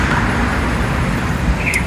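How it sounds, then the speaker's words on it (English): Busy road traffic at a traffic light, cars and buses rumbling past close by in a loud, continuous wash of engine and tyre noise with a brief high squeal near the end. "the road is getting busy now, close to our place that we're living. And as you can see, a lot of vehicles are coming now."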